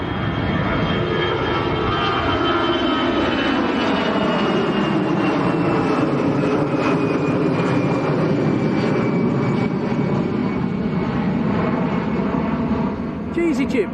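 An airliner rotates on takeoff at Lanzarote Airport, its engines a loud, continuous broadband roar with a high whining tone sweeping slowly, steady and close for the whole stretch.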